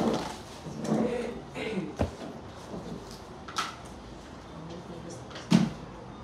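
Students move and rearrange chairs in a classroom, producing scattered scrapes and knocks at irregular intervals, with a few sharper clatters, as voices murmur in the room.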